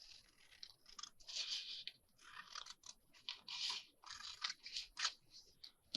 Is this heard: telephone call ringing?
no